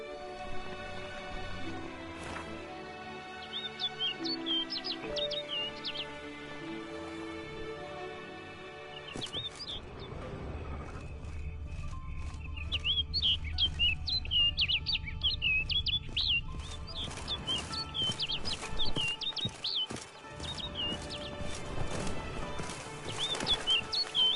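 A bird chirps and tweets repeatedly in The Witcher 3: Blood and Wine, bright quick calls over a soft game soundscape and musical score, growing busier in the second half.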